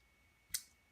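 A single faint, sharp mouse click on a text box in a computer form, isolated against quiet background hum.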